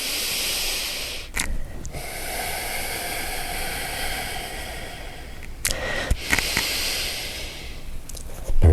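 Slow, deep yoga breaths through the nose and mouth, long airy hissing inhales and exhales with a couple of sharper sniffs, close and steady.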